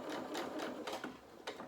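A sewing machine runs steadily through fabric for a short burst, stitching a pinned edge of a soft toy rabbit's body, close and clear with a fast mechanical whir and slight pulses, no talk.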